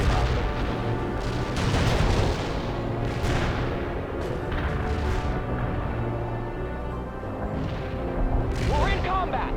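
Artillery fire from the 2007 strategy game World in Conflict thunders in heavy repeated booms and gunfire bursts over a dense battle din, with radio-style voices speaking among the blasts.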